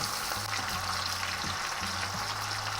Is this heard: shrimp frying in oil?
yes